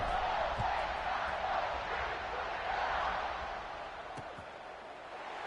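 A large stadium crowd in a college football video game, Maryland against Ohio State, roars in a broad, constant wash of cheering just before kickoff, loud and sustained and fading slightly toward the end.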